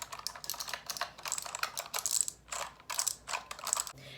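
Rapid, crisp keystrokes clatter on a clicky mechanical keyboard, close and loud, arriving in quick uneven bursts with short pauses between them.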